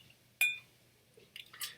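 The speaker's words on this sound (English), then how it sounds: "If you take the whiskey and pour it into a Glencairn glass, as I'm doing right now" Talisker Dark Storm single malt whisky poured into a Glencairn glass: one sharp close splash and clink, then a few small drips and taps trailing off, with no talking.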